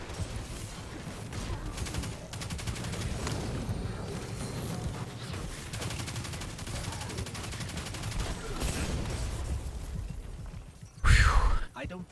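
Dense gunfire in the shooter game Destiny 2, a continuous rattle of rapid weapon shots under voices, with a louder burst near the end.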